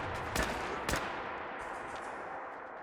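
Two sharp gunshots crack out close together near the start of a horror survival video game session, followed by a lingering muffled ambience with no further shots.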